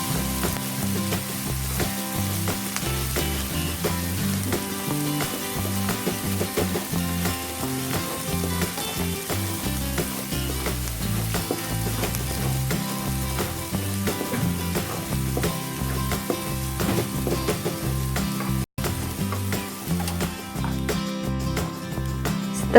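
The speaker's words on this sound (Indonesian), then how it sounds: "Kita tumis sebentar sampai harum ya." Ginger, galangal, lemongrass and bay leaves sauté in hot oil in a pan for a tofu semur, a steady close sizzle with occasional stirring scrapes and clinks, no speech.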